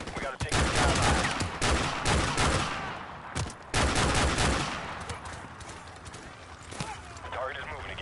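Gunfire rattles through a mission in Modern Warfare Remastered on PS5, loud dense bursts of rapid shots in clusters with brief gaps, some clattering mechanical noise, and voices talking between the volleys.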